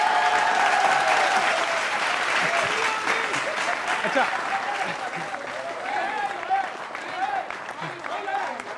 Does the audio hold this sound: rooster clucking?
no